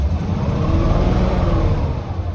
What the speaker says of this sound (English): When I rev up the engine,